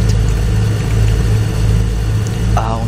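Steady, loud low drone of a tractor engine idling in Farming Simulator 15, heard from the cab interior, droning on evenly with a brief faint voice near the end.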